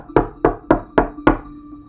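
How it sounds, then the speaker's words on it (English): Five evenly spaced knocks on a door, firm and close, each with a short resonant decay, in a steady repeated pattern with no talk. "And that's when the knocking started again."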